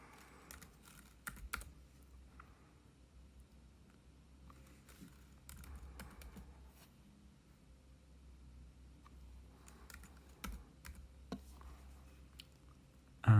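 A Wi-Fi password is typed on a computer keyboard in irregular bursts of light, close key clicks with pauses between groups, ending in a firmer tap; no voice is heard.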